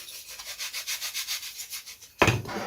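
Sandpaper rubs quickly over a part of a vintage Mercury IV model aircraft in steady, rhythmic back-and-forth strokes, close up, ending in a sharper, louder scuff.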